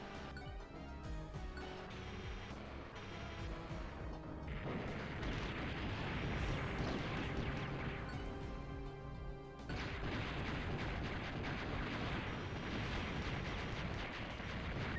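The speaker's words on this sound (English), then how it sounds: "Everything is shooting at poor Muir now." Enemies shooting in the Blaster Master game, with a dense, continuous barrage of retro gunfire and explosion bursts layered over loud game music for the whole stretch.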